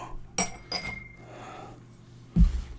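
Glasses clinking during a tequila tasting as another glass is fetched: two sharp clinks close together, a quieter stretch of rattling, then a heavier knock of glass set down on a surface.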